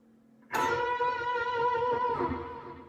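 A sustained electric guitar double bend, two strings such as the B and G bent together, ringing out for about two seconds with a slight pitch waver before fading.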